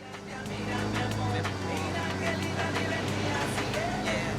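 A battered car's engine drones steadily while driving in Ghost Recon Wildlands, a loud continuous hum with rattling detail throughout, under talking.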